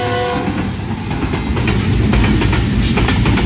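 Train at the Bhariya Road railway crossing in Naushahro Feroze, a rumbling pass with rattling wagons and a brief horn at the start, loud and close, no talking.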